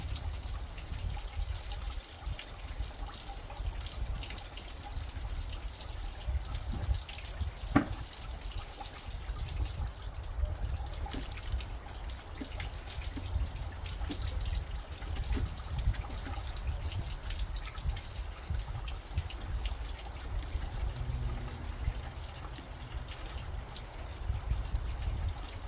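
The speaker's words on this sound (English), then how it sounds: "I can feel all the water rushing through all this, so we did put it on the right hose." Water rushes steadily through the coolant hoses and heater core of a 1996 Jeep Cherokee during a flush, a constant low, faint gushing wash that runs unbroken for the whole stretch, with no voices.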